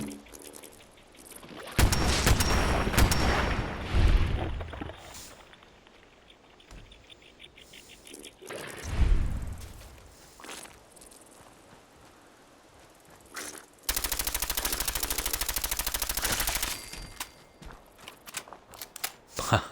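Gunfire in the Fallout 4 video game: loud sustained bursts of shots, a break, then another dense burst, with softer footsteps and rustling between and no talking.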